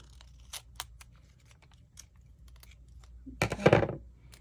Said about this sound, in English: I'm going to cut one of these glue dots